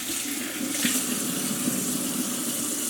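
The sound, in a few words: water running from sink tap while washing hands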